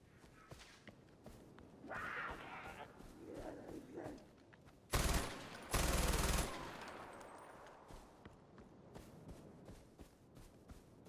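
Loud gunfire from a weapon in the first-person shooter Far Cry 4, heard as two short, sharp bursts close up against a backdrop of in-game footsteps and ambient rustling.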